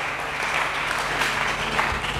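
A church congregation applauds during a sermon, a dense, steady clapping that fills the room at a loud, even level throughout.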